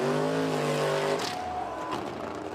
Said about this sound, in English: This amateur race meet in Michigan is an American love letter to the petrol engine.